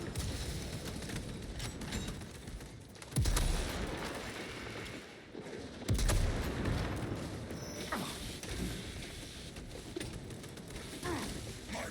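Gunfire strikes the player in Space Marine 2, with heavy low thumps and cracks of shots and impacts over dense mechanical battle noise, loudest in a couple of sharp bursts.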